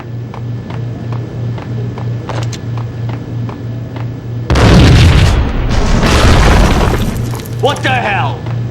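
A big bomb-like explosion in the PS2 game Max Payne: a loud, sudden, rumbling blast with crackling debris cuts through a steady background drone, trailing off into lingering noise.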